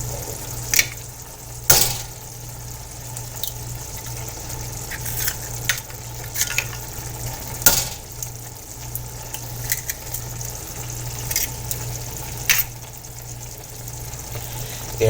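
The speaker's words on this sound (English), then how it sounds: "I'm going to take my eggs and crack them one at a time onto 3 separate areas." Eggs are cracked one at a time into a pan of shakshuka, giving sharp shell taps and cracks spaced a few seconds apart over a steady low sizzle of simmering sauce.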